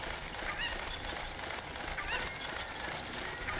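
A chicken in The Legend of Zelda: Ocarina of Time gives two brief squawks over steady, loud background game noise.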